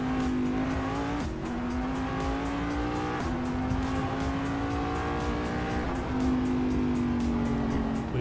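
A race car in the Assetto Corsa racing game, driven with mods, holding a steady loud engine drone whose pitch climbs and dips with each gear change, with faint tire noise underneath.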